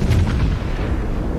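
Naval guns firing from the Benson destroyer in World of Warships, a loud, close boom with a heavy low rumble and a short ringing decay, heard alone.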